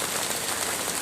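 Steady rain on a gray morning at a Myrtle Beach, South Carolina speedway fairground falls continuously, a dense close hiss of drops on surfaces with no voices.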